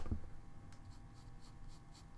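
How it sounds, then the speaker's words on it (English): A pencil stroke drawn across paper gives a soft, continuous dry scratch lasting about two seconds. It is close and quiet, with no talk over it, and it opens with a brief low thump. "That stroke that I just made on the piece of paper."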